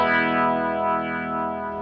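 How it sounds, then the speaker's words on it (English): A carbon-neck electric guitar plays a sustained chord through a tone boost with a half-cocked wah character, distorted and slightly chorused, ringing loud and alone before slowly fading. "it's sort of like a half-cocked wah pedal"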